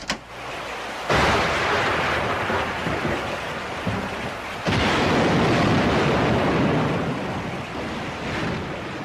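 Heavy rain pours down in a film storm scene, a dense loud roar that surges in two strong waves and sounds like gusting downpour with thunder-like rumble, with no voices.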